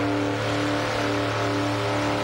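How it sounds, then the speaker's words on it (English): A supercharged Mustang with a 671 GM blower doing a burnout at the 1989 Summernats competition, its engine roaring at steady high revs with a harsh, continuous drone and no pauses. "That big 671 GM blower pumping the air into that engine, making incredible horsepower for the 89 Summernats burnout competition"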